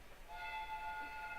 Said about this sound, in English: The train is arriving at the station.